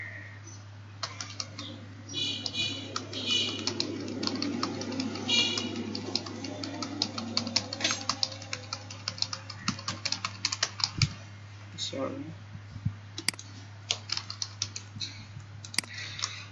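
Steady typing on a computer keyboard while entering text into an Excel spreadsheet, a dense run of close, quick key clicks at an even rhythm for most of the stretch, thinning to sparser taps near the end over a low steady hum.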